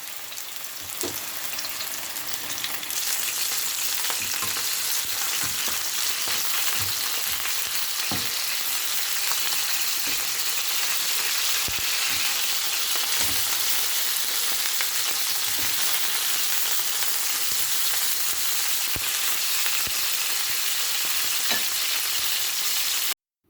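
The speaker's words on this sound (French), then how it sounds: "Je vais venir bien les saisir de chaque côté, qu'ils soient bien dorés." Chicken drumsticks searing in a hot pan until golden, a steady dense sizzle and crackle close up throughout, with occasional small pops and stirring sounds, with no talking.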